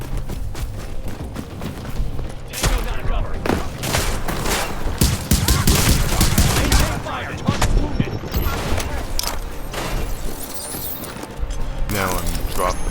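Turret gunfire in the video game The Division rattles in fast, clattering bursts amid battle noise, with someone speaking over much of it.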